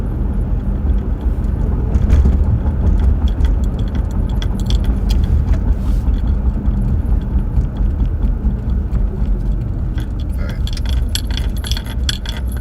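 A car cruises and makes a right turn onto Disneyland Drive with a steady low engine and road rumble, while loose keys or small objects jangle and rattle inside the cabin throughout.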